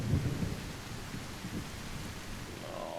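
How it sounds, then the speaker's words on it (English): Thunderstorm with steady rain in the survival game The Isle, a dense wash of rainfall under low rumbling thunder that swells near the start, continuous and fairly loud with no voices. "a storm rolled in"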